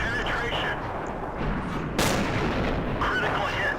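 Tank cannons firing shells in World of Tanks during a battle, a dense roar of booming shots and rumbling explosions with a sharp, loud blast midway, the noisy barrage continuing throughout.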